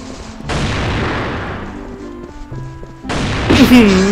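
Gunfire from the mobile FPS game Crossfire Legends, loud booming shots close up in two bursts separated by a quieter gap, with a tonal in-game effect near the end.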